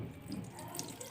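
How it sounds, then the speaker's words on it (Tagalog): Clean running tap water streams steadily over a wounded part of the body during first-aid rinsing, a soft continuous splashing and trickling close by, fairly quiet, with no talking. "banlawan ng malinis na tubig ang parte ng katawan na nasugatan"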